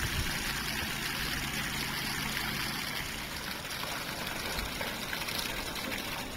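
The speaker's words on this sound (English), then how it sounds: "We've started the inaugural filling of the governor's pond." Water runs steadily into a freshly lined garden pond at the New Jersey Governor's residence in Princeton, a continuous splashing trickle with a constant hiss and no breaks.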